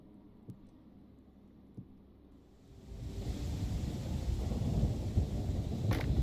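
Thunder in the video game Hytale rolls in after a few quiet seconds, building into a loud, sustained low rumble that swells and lingers with a sharp crack near the end.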